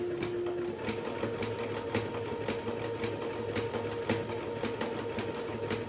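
A Brother Super Ace SE model 947 sewing machine stitching continuously, a steady close whirring motor with rapid rhythmic needle clatter, running alone without talk.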